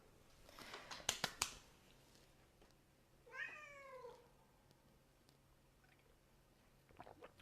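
A pet cat named Neko gives one drawn-out, wavering meow in the middle, close and clear, with a few sharp clicks and taps just before it in an otherwise quiet room.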